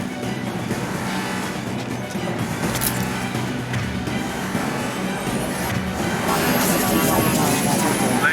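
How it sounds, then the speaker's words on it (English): A gunship's engine in the video game Mass Effect 2 roars steadily and loudly throughout, a dense mechanical drone that swells slightly toward the end, with faint talk in the background. "Gunship's back and with full shield"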